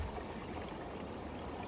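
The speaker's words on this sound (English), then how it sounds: "There's the river there, which is overflowing and coming over here." River water spilling over its banks onto a towpath, a steady broadband rushing and trickling wash that stays constant throughout, moderately faint with no voices.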